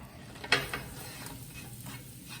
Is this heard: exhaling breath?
no